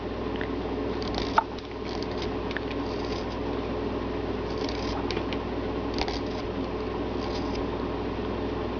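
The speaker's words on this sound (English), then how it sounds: "Now we're going to cut that a little bit further as well." Scissors snip repeatedly in short, close crisp cuts, coming in small clusters over a steady low background hum while trimming a piece.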